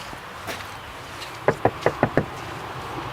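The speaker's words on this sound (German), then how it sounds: "Komm, wir klopfen mal." A quick series of five firm knocks lands on a camper van door, evenly spaced and close, sharp and woody, with quiet surroundings before and after.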